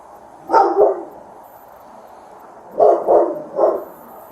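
A dog barks inside a house: one double bark, a pause, then a quick run of three barks, clear and fairly close with no talking.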